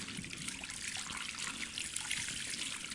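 Running water trickling and splashing steadily in a video game bathroom scene, a continuous close hiss with no pauses and no talk.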